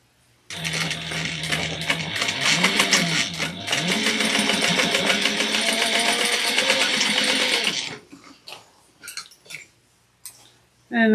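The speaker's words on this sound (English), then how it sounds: "bring this over to the machine and sew this at a 1/2 inch to all the seams" A sewing machine runs steadily for about seven seconds, stitching half-inch seams on a convertible backpack, with a loud, rapid, continuous whir up close before stopping and giving way to a few handling clicks.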